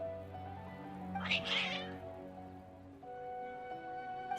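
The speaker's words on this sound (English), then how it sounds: "Your cats seem pretty worked up." In the video game Genshin Impact, agitated cats let out a loud burst of yowling meows over soft, sustained background music, with no speech.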